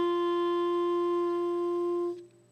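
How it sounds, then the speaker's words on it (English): A clarinet mouthpiece and reed alone, with no keys pressed, sound a steady sustained note G, a bright reedy tone held for about two seconds before it cuts off. "G, that's the note you're going to hear for clarinet"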